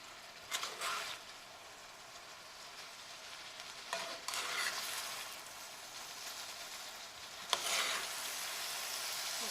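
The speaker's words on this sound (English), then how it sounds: "See, the cabbage is all cooking down." Cabbage and other ingredients for haluska frying in a pan: a soft, steady sizzle runs throughout, broken by three louder bursts of stirring and turning with scraping and hiss, with no talking.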